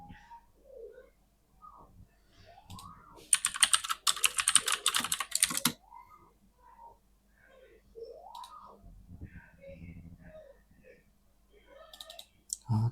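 Typing a message on a computer keyboard: a quick, dense burst of keystrokes rattles out in the middle, with a few isolated clicks and soft chirping tones scattered before and after.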